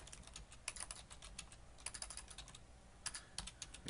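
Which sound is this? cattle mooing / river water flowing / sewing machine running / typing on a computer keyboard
typing on a computer keyboard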